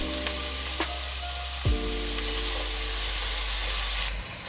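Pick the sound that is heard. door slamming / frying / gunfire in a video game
frying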